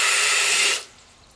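Water gushes from the drain of an electric water heater during a flush, a steady loud hissing rush that cuts off abruptly after under a second and leaves faint residual trickling.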